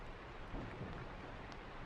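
Steady rain hisses outside with a soft, low rumble of distant thunder, a continuous even wash of sound with no voices.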